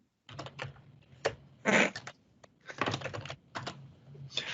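Quick bursts of typing on a computer keyboard while entering a command, crisp clustered keystrokes with short pauses between runs, close and fairly quiet with no talking.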